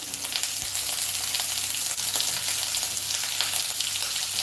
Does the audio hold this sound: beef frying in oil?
yes